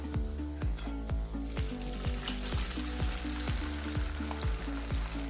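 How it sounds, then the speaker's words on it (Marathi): French fries deep-fry in oil in a kadai, sizzling and bubbling steadily with a rapid crackle running throughout and no voices. "तर सर्व बॅचेस आपण तळून घेणार आहे आता"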